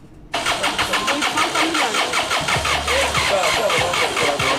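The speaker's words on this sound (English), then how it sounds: "A commercial motorbike stuck in a pool of muddy water due to the swampy nature of the streets." A commercial motorbike engine, stuck in a pool of muddy water on a swampy street, kicks to life and settles into a loud, steady, throbbing idle close by.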